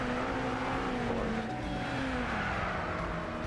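Race cars battle for position in Gran Turismo Sport, engine notes climbing and falling through the gears in a steady, sustained whine as several cars run close together, with faint tyre noise underneath.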